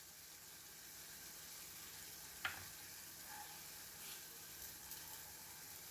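Onions sizzling gently in a hot pan in a home kitchen, a faint steady hiss with one brief clink of a utensil and occasional soft pops, no voices.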